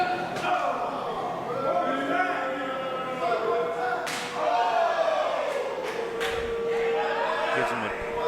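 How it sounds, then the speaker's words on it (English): A sharp slap of an overhand chop landing on a wrestler's chest during a three-way pro wrestling match, a single crack under an excited commentator's voice and crowd noise. "Gives him a good overhand chop there."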